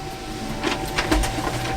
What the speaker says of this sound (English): I hit OK, and they're going to spit out over here on my printer.